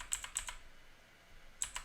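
Computer keyboard keys tapped in two short bursts of a few clicks each, separated by a quiet pause, close and fairly faint.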